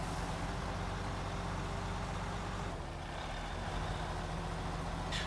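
Eight-wheel-drive truck with diff lock engaged grinding steadily uphill in Snowrunner, a constant loud engine drone with a faint hiss near the end and no voice.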